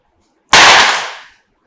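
A Samsung Galaxy A52 with a plastic rear panel strikes the floor in a drop test from about five to six feet, giving one loud, sharp impact with a crackling tail that fades over nearly a second.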